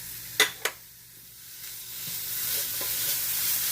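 Beef and fresh carrots stirred in a hot frying pan, two sharp utensil knocks against the pan followed by steady sizzling and frying that swells gradually and continues throughout.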